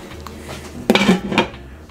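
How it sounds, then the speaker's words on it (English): A metal lid is set onto a pot holding heating high-heat oil and a few popcorn kernels: a close, sharp clatter of metal on metal followed by a second rattling knock as it settles, over a low kitchen hum. "Put the lid on."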